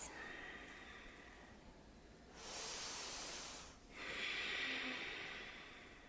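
Faint breaths during a vinyasa yoga power flow, two soft, airy inhale-exhale swells in a quiet room with no talking.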